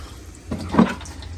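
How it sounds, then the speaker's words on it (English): Water from an RV faucet after dewinterizing runs in a brief close splash that swells and fades within about a second, with no voices over it. "We turn both the faucets back on. Let them run."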